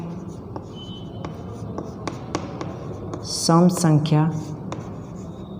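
Chalk or marker writing on a board during a maths lesson, a series of light scratchy taps and short strokes spread across the clip, with a teacher speaking briefly over them.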